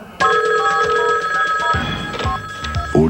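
A telephone rings loudly in a radio phone-in studio, a bright sustained electronic bell tone that cuts in sharply, continues for a few seconds and briefly breaks near the end.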